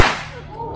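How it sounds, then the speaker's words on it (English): A single sharp crack from a heavy chain whip snaps out close and loud, then a long ringing tail fades away with no talking. "Chain whip, very heavy whip."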